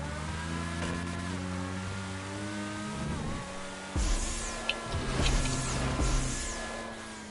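A race car engine in a GTA Online stunt race roars steadily at high revs, with pitch shifting through gear changes and a heavy thump from a landing on a banked curve, followed by rougher, louder engine noise.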